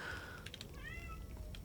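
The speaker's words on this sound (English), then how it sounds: "There's an Emma meowing." Emma, a pet cat, lets out a short, close meow with a rising, wavering tone, heard alone over quiet room noise.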